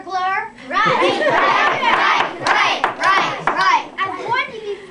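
A courtroom crowd erupts in a loud, sustained outburst of overlapping voices, shouts and laughter, with scattered hand claps breaking through the clamor.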